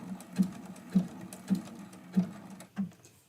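Home sewing machine stitching backward through a small quilted mug rug, a run of five evenly spaced mechanical thumps about half a second apart, close and moderately loud with no voices.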